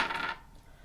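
Dice rattle and clatter briefly as they are thrown, a quick bright jingle lasting about a third of a second before fading into quiet room tone.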